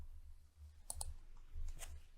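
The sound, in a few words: computer keyboard typing and mouse clicking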